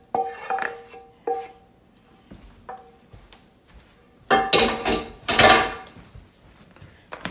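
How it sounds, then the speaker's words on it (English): A heavy skillet handled in a home kitchen while making turkey dressing with chouriço and sage, giving clanks and clinks of metal pan and dishes, two loud clattering bursts near the end amid quieter knocks. "Oh, this skillet is heavy."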